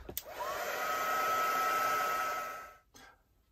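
A hair dryer blows steadily on an art journal page coated in gesso and distress ink, a loud, close whir that rises in pitch as it spins up, holds for about two seconds, then cuts off into near silence.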